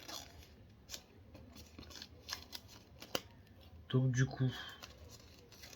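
Fnac 4K Ultra HD steelbook Blu-ray of The Fall Guy being unwrapped: scattered crinkly rustles and scraping taps of plastic packaging, with a louder burst of handling near the end, under someone speaking French.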